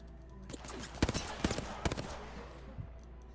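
Gunfire in a shooter video game comes as a quick run of sharp shots, loudest in the middle, over a low steady background hum, then fades to a single later pop.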